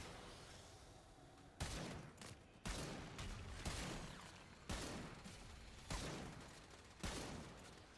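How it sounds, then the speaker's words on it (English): Six sharp gunshots from a bolt-action gun in a video game, spaced about a second apart with short pauses between, each loud and close with a brief tail, no talk. "I like how this gun almost has like a bolt action to it."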